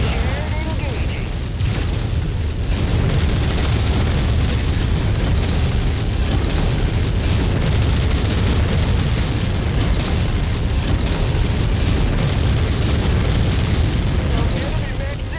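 An enemy mech blowing apart in MechWarrior 5 sets off a loud, continuous roar of booming explosions and crackling bursts, close and dense throughout, with clanking mechanical noise in the mix.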